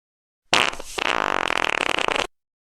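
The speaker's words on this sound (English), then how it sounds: "He just farted a lot." Walter the dog farting in a long, loud, close burst, a sputtering rapid train of flatulent pulses that starts with a blast, dips briefly, then rattles on for nearly two seconds before cutting off.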